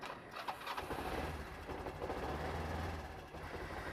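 A dropped motorbike's engine starts up and settles into a steady, loud, rumbling idle, close by and continuous with no talk.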